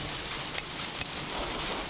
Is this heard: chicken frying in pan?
no